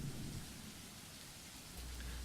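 A steady downpour of rain hisses throughout a storm, with low rumbling thunder swelling at the start and again near the end. The whole scene is fairly faint and continuous, with no voices.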